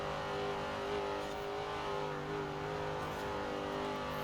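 Forza Edition Nova muscle car in Forza Horizon 4 pulling hard in 5th gear downhill on a bumpy road, a loud, steady engine drone with a rising pitch and constant rumble throughout, heard from inside.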